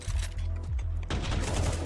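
Rapid gunfire rattles through a Counter-Strike esports match, dense bursts of shots overlapping with game effects, loud and continuous with a brief shift partway as the fight intensifies.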